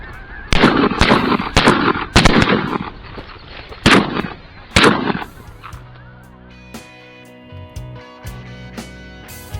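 Shotgun blasts at ducks during a waterfowl hunt, about seven loud booming shots in quick succession over the first five seconds, then ducks and geese honking and quacking nearby.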